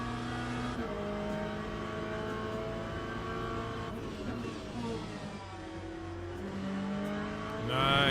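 A race car in a racing video game at Imola, its engine roaring loudly and shifting pitch as it brakes and accelerates, with sustained tonal whine and a sharp rising rev at the end.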